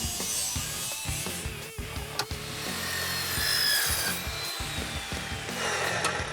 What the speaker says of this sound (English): I love this saw.